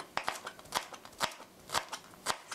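Knife chopping and mincing garlic cloves on a board, a quick series of crisp, close cuts in an uneven rhythm, fairly quiet with no speech.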